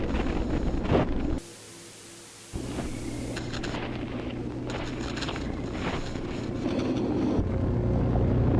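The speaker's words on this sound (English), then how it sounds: "The tape hits static and we hear..." Static from a tape, a loud broadband hiss and rumble that drops out briefly near the start and then returns, steady and wind-like, with no voices.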